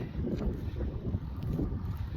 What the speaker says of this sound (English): I'm gonna hop back in the tractor and take it back.